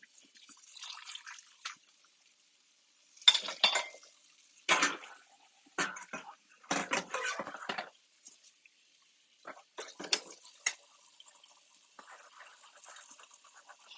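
Intermittent splashing and clinking bursts while dishes are washed in a kitchen sink, with water dripping and brief clatter of pots and cutlery separated by short quiet gaps, no talking.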